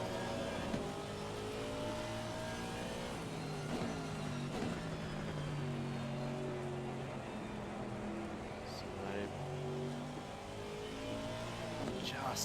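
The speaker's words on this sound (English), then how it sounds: "Just hear how patient he is on the throttle. You can hear the traction control working overtime as well." A race car onboard at Spa during a six-hour race drones steadily on throttle, engine note rising and falling with a stuttering traction-control flutter, under a commentator's continuous talk.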